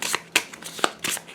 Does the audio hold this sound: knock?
no